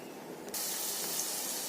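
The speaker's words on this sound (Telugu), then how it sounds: "ఒక టేబుల్ స్పూన్ నెయ్యి వేసుకొని ఫూల్ మక్కానీ వేయించుకోవాలండి" Phool makhana lotus seeds hit hot ghee in a pan and set off a sudden steady sizzle, a close, even frying hiss that carries on without talk.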